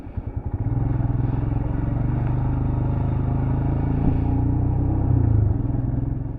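A motorcycle pulls away on a New Zealand road, engine note building from a few low pulses into a steady, close rumble that holds for several seconds with slight throttle swells.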